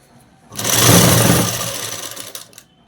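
A sewing machine runs in one loud, close burst of stitching on a child's frock, starting abruptly, humming busily for about two seconds, then tapering off and stopping, with no talk over it.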